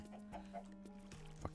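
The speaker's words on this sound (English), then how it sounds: "Fuck you, chicken." A chicken clucks in modded Minecraft with a few short, quiet clucks over a low steady hum and a faint click near the end, and no one speaks over it.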